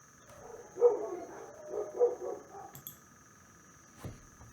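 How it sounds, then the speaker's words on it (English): Several dogs bark in a residential neighborhood, a few muffled barks from a distance drifting in over room hum. "I apologize for those dogs. That's the way this neighborhood is."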